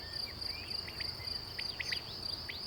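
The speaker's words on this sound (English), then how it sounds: "A master digger, aka field cricket." A field cricket chirps in a steady, high-pitched trill, with faint scattered bird calls over low background hiss, distant and soft.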